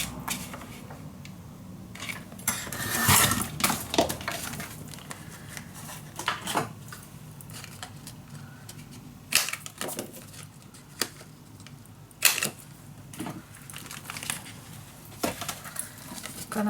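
Paper being cut for a Halloween mini album: a run of crisp, irregular snips and rustles, close and fairly quiet, with several sharper cuts standing out among softer handling noise and no talking.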